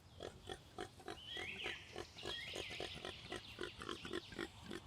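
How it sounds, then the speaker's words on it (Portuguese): A female warthog rooting in dry-season bush gives a series of rhythmic grunts and snorts, close and fairly quiet, with a couple of higher squeals partway through. "uma fêmea de javali cavava raízes"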